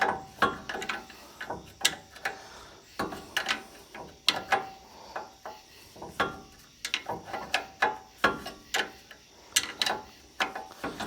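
A ratchet wrench tightens the ball joint nut on a 2011 Ford E150 van in rapid, uneven bursts of sharp metallic clicks, close and fairly loud, with brief pauses between strokes and no talking.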